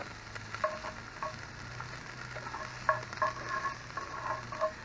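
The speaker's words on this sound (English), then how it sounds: "I'm gonna render these down a little bit, cook these onions down" Onions cook down in a Dutch oven at a camp cookout, giving a steady, moderate sizzle with small pops and crackles throughout and no voices.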